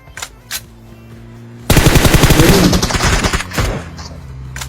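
Rapid automatic gunfire from PUBG erupts after a quiet stretch, a loud sustained burst of shots followed by a few scattered single shots fading out.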